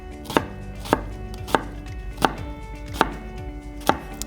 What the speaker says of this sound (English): So now we want to chop our red onion